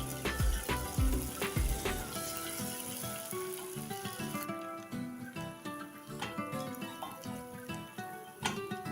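Garlic paste frying with golden onions in a pan sizzles loudly and steadily up close, with sharp crackles and stirring clatter over the bubbling.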